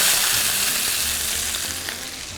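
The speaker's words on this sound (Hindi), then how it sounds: "घी जैसे ही गर्म हुआ, ये देखिए ये किशमिश है, किशमिश डाल दी इसके अंदर" Raisins fry in hot ghee with a loud, dense, continuous sizzle that holds steady throughout, with no voices.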